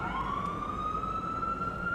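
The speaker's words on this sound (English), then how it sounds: "You're probably interrupted by a little audio of an ambulance here from video that we're running" An ambulance siren wails in a steady rising tone over a low rumble of traffic, moderately loud and continuous throughout.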